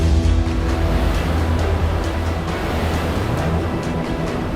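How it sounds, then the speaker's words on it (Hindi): Strong winds and crashing sea waves during Cyclone Biparjoy, a loud, steady roar of surf and wind buffeting the microphone, continuous throughout. "तेज हवाएं, समुद्री तूफान के खतरा"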